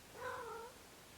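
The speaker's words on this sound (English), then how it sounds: "sorry, my cats are fighting" A lone faint, short cat meow or yowl from cats fighting indoors, heard quietly in the background over room noise.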